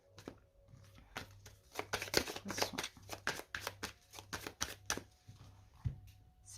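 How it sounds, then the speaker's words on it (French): Lenormand cards being cut and shuffled by hand, a run of crisp riffling and flicking bursts in an irregular rhythm, close and fairly quiet, with a faint low hum underneath. "on commence par une coupe avec le Lenormand"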